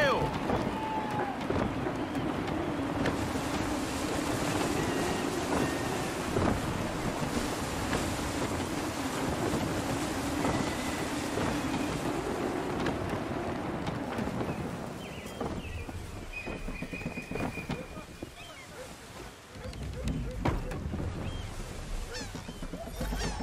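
A sailing ship runs at full sail through gusty wind in the Assassin's Creed III video game, giving a continuous rushing roar of wind, waves and hull over open sea, with game voices and honking gulls mixed in.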